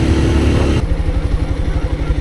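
A bike's engine drops to neutral and settles into a steady, throbbing idle after a brief louder stretch of road noise, the low rhythmic pulses continuing close by.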